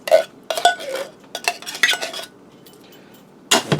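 Utensil scraping and clinking against a pan while cream of mushroom soup is spread over pork chops, a series of close, irregular metallic scrapes and taps with short pauses.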